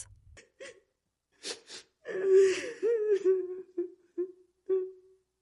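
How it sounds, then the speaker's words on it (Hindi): A woman's soft, drawn-out crying in a Hindi horror tale about a cursed black mansion, heard alone as a few breathy sobs and gasps followed by quavering wails that fade in short bursts. "और तभी हवेली के भीतर से आई किसी औरत की धीमी रोने की आवाज"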